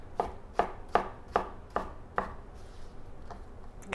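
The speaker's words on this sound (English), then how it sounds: "so I like this to be cubed up" A knife chops food into cubes on a cutting board, about six crisp, evenly spaced strikes close by that fade out toward the end.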